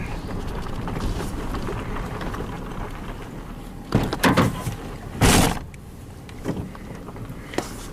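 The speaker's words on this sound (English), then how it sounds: "Pushing on that back door." Vehicle back door on a four-door truck being pushed, a series of dull thumps and rattling knocks at close range over windy outdoor background noise, with a couple of louder bangs partway through.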